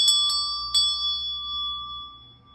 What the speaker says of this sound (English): I will ring the sacral chakra bell for you